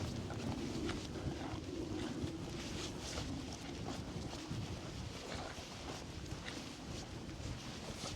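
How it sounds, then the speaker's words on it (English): Strong wind buffeting across the open Lake District fells, a constant loud roar with gusty rumble and no talk. "This wind."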